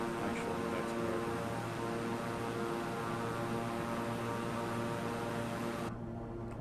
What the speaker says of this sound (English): let me know if the plane's a little too loud, because I've got that up fairly loud